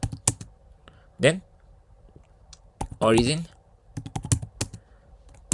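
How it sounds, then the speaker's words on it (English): Fingers tap out a git command on a computer keyboard in quick bursts of crisp, close clicks. Someone speaks briefly between and over the keystrokes. "I can push by typing the command git push"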